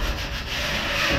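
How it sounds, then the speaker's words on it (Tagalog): Hand sanding of wood at a townhouse construction project, heard as a steady, close, rasping scrape that keeps going with a slight dip partway through and no talking. "Ay, Kuya Rizal, nagliliha."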